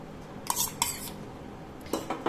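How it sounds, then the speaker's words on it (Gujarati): A spoon clinks and scrapes against a pan as buttermilk is added to gunda curry and stirred, with a few short metallic knocks spread across a quiet background. "મેં છાશ એડ કરી છે"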